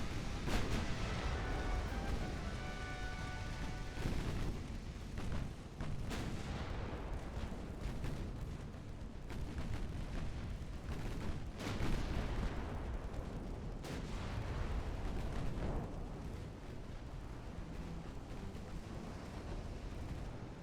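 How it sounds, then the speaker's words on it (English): Warship main guns firing in Ultimate Admiral: Dreadnoughts, heavy booming salvos one after another with rumbling echoes, loud and dense throughout with barely a pause between blasts. "I need those main guns shooting that battleship."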